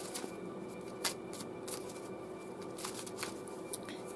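A Linestrider Tarot deck is shuffled and a card drawn, giving soft papery riffles and quick flicks that repeat irregularly, close and fairly quiet, with no talking.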